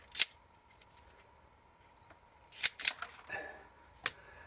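Scissors snip through 24 gauge wires to cut them to equal length, giving a handful of crisp, close cuts: one near the start, a quick cluster of three to four, and a final snip.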